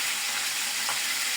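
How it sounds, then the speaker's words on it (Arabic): Unseasoned shrimp frying in ghee with a sprinkle of cumin, a steady, close, loud sizzle and crackle filling the pan without pause. "بعد ما شوحت الجمبري في السمنه واحمر كده خد لون"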